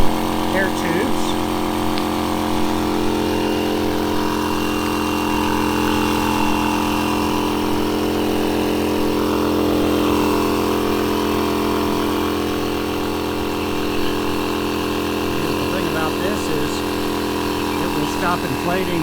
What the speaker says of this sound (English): I'm actually using the electric pump to inflate the air tubes.